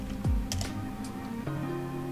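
A computer keyboard is typed on in short, light keystroke taps, close and alone, with a steady electronic hum and a brief low sweep underneath.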